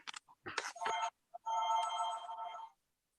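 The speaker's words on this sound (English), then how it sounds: "Hold on, I got to turn my phone off." A mobile phone rings during a town planning board meeting, a bright electronic ringtone lasting over a second after a few brief knocks and handling sounds, heard close in a quiet room.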